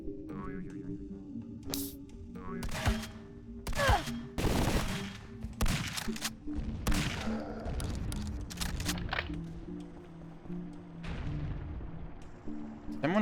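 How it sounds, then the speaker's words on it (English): Mortar fire in the video game Zortch, heard as a series of loud booming blasts and crackling explosions in quick bursts, with quieter rumbling and game sounds between them. "Someone, like, seriously firing mortars from somewhere, or what?"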